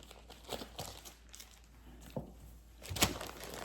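Fabric and a project bag rustle and crinkle close to the microphone, with scattered soft crackles building to a louder crunch near the end, and no talking.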